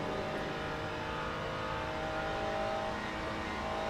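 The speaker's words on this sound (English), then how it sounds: "I see a BMW coming up on me really fast" A BMW GT race car in the Le Mans Ultimate racing sim gives a steady, loud engine roar that holds at an even pitch and volume throughout, with no one speaking.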